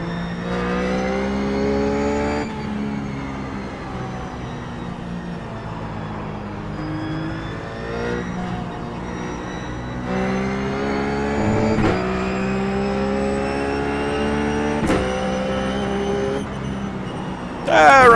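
Ruf GT3 race car engine in the iRacing game at Lime Rock, screaming loudly through upshifts and long full-throttle pulls with sharp gear-change breaks, up close and continuous.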